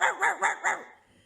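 A voice gives four quick, rough growling bursts close to the mic, imitating an animal growl, then trails off into quiet.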